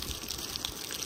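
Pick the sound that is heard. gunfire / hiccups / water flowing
water flowing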